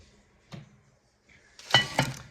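Bread dough for a no-knead loaf going into a heavy Dutch oven, with a soft single knock followed by a clattering burst of lid and pot clinks, close and fairly loud, no talk.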